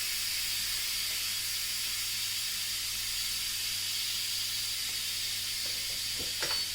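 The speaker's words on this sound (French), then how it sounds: "le Moulinex me demande de dépressuriser. Donc je le fais manuellement" Moulinex pressure cooker venting steam during manual depressurization, a steady loud hiss that holds unbroken throughout with a few faint clicks near the end.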